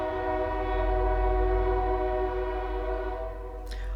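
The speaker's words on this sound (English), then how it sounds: "I'll let that train go by." A train rumbles past close by with a loud steady low roar and a sustained horn-like tone throughout, the sound holding strong for several seconds.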